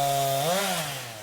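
A chainsaw engine runs close and steady, then its pitch rises and falls once as it bites into a cut on trees after storm damage. It sounds alone for just over a second.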